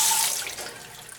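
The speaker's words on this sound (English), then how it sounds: "And now we flush it out for the" Water gushes from a laundry sink faucet as it is flushed out, a steady hissing rush that starts strong and gradually softens over about a second.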